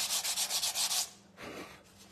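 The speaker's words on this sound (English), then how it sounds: "We could just sand it down a little bit more" Wood on a Christmas gift bag is sanded by hand in quick rhythmic back-and-forth strokes, a close, loud gritty rasping that stops after about a second, followed by one softer rub.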